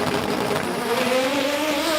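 Front-wheel-drive Honda drag race car with a K20 engine making about 700 horsepower, a loud continuous engine roar with a rising tone throughout, close and dominant at a drag strip.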